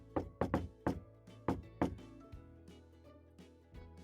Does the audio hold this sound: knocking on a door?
yes